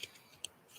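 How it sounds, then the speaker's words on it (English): Tarot cards being shuffled by hand, giving a few quiet, brief papery riffles and snaps spread across a short moment, with no talking. "That's my shuffling."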